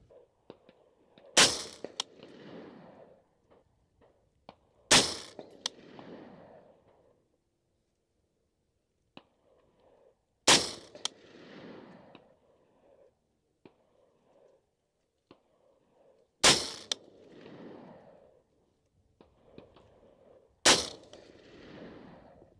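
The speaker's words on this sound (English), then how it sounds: "All right, 5 rounds of Sierra Match King 69 grain." Five sharp, loud rifle shots from a Colt CAR-A3 HBAR firing Sierra MatchKing 69 grain rounds, spaced a few seconds apart with a decaying echo after each one and quiet in between.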